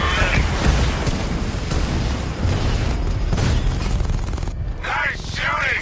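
Gunfire in the Batman: Arkham Knight video game, dense rapid bursts and booming blasts rattling continuously and loudly, with brief whooshing sweeps near the end.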